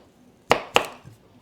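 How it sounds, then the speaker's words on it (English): A freshly sharpened kitchen knife cuts through a sweet potato on a board, making two quick, crisp chopping knocks close by, each with a short fading tail, then near silence. "cut through the sweet potato again"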